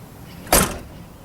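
A tractor truck door lifted at its hinge during a pre-trip inspection, giving a single short metallic clunk and rattle against quiet background.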